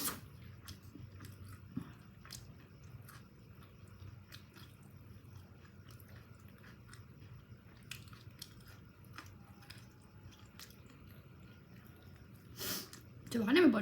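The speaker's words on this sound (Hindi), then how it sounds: "चबाने में बहुत टाइम लगता है।" Someone chewing jhalmuri close to the mic in soft, irregular crunches and squishes over a low background hum, with a louder noise near the end.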